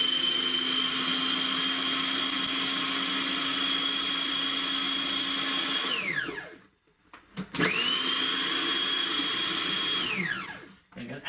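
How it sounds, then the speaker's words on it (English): Blender whirring through a cheesecake base mixture, a loud high steady motor whine that spins down, pauses briefly, then starts up again and runs before winding down once more. "we blend this all up until it forms a nice"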